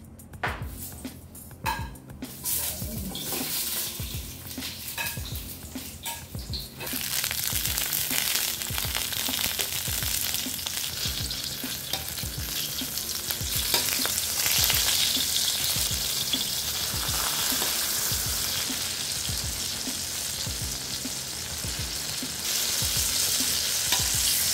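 Chicken frying in hot cooking oil for a chicken kare-kare, a steady loud sizzle that swells after a brief quieter start and keeps crackling without a break, no talking.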